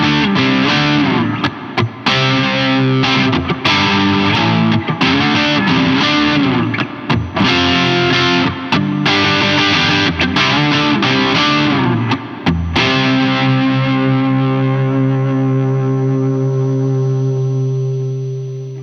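Handmade Telecaster electric guitar played through its P90 pickup with light distortion, strummed chords ringing with harmonics for several seconds before a final chord sustains and slowly fades, loud and close with no voices.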